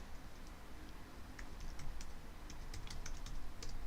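Fingers type a URL on a computer keyboard, a steady run of light, close clicking keystrokes with irregular rhythm over a low background hum, growing slightly busier toward the end, with no voices.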